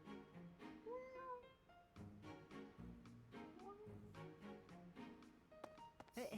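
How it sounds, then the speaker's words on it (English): Several cats meowing in Fire Emblem: Three Houses, high tonal mewls repeating over a busy backdrop of game music and sound effects, moderately loud and overlapping. "Oh no, it's the cats."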